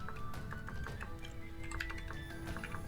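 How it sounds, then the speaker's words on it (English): Command typed on a computer keyboard during a Vintage Story session, a quick irregular run of light key clicks, close and fairly quiet, with no talking. "you type in /IronMan"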